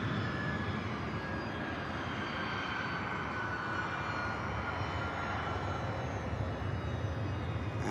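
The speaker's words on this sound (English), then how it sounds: "we do have an aircraft touching down" An easyJet airliner arriving from Geneva touches down at Manchester Airport, its engines producing a steady, broad roar heard from a distance, with no talk over it.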